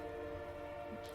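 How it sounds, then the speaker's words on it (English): A train rolls by just behind an apartment building, a sustained horn-like drone with a low rumble underneath, steady and fairly close. "there's a train right behind my apartment."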